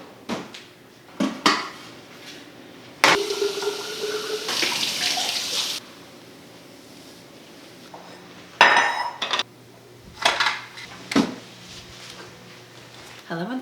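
Kitchen cleanup at home: wiping down surfaces and washing a few dishes at the sink, with running tap water, clinking dishes and cutlery, and a drawer knocking in bursts between quieter pauses.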